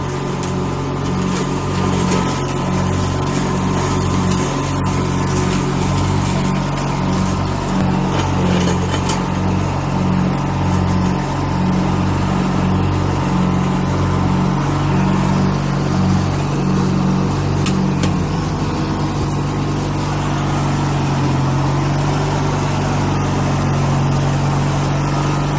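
A 42-inch Poulan/Husqvarna/Craftsman riding lawnmower engine runs close by at a steady idle, a loud continuous drone with a rhythmic pulsing chug that settles to a smoother hum near the end.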